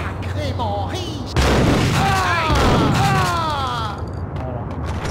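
Grenade blasts and gunfire in the Max Payne video game: a loud boom partway through starts a dense burst of explosive noise, with game music and other effects running underneath.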